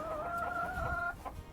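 Silkie and Ayam Cemani chickens in a barn, one close bird letting out a drawn-out, tonal cluck lasting about a second, followed by a short quieter cluck.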